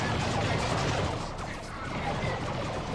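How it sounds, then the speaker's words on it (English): Plague Marines bursting apart in a Dawn of War 2 battle, a dense, continuous wash of crashing blasts and gunfire-like cracks rolling across the whole stretch with no pauses. "Chosen Plague Marines, Plague Marines starting to explode."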